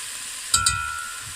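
Bulgogi meat fries in a hot pan, a steady soft sizzle under two quick clinks or stirring taps near the middle, with no one talking.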